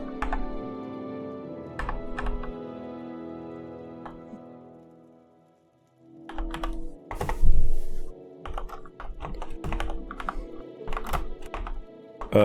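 Someone types on a computer keyboard while playing Morrowind, producing bursts of close, irregular key clacks and thunks. There is a brief pause, and then the typing turns busier and louder.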